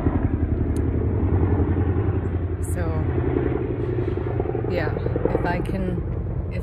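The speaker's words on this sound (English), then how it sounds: "Choppers." Military helicopters flying over a military base, a loud continuous rotor chop and engine rumble filling the whole stretch, with a person talking briefly over it.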